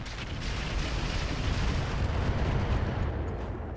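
Weapons fire on a mech in the video game RogueTech, a dense, sustained roar of gunfire and explosions that rolls on without a break. A few faint high electronic blips appear near the end.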